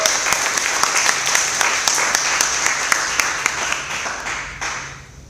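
An audience applauds as a team is welcomed onto the stage at a startup accelerator demo day in Singapore, with steady, fast clapping from a crowd that holds loud, then fades toward the end.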